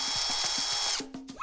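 A power drill bores holes into a whole watermelon, giving a steady close whirring motor with a rhythmic low pulsing; the motor stops about two-thirds through, leaving brief ratcheting clicks.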